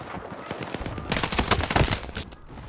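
Rapid rifle fire in Battlefield 6 with an M39 in play, a dense, loud stream of close shots that swells into a heavier burst midway, set against background battle noise.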